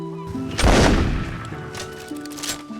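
One loud musket gunshot in a video game cracks close and booms into a decaying rumble, set against a steady game music drone.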